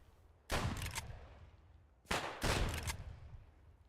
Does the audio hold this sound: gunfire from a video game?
yes